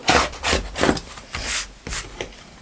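A rotary cutter or scissors trims the uneven edges of a sawtooth star quilt block, a run of six soft, close rasping strokes in an even rhythm with no talking.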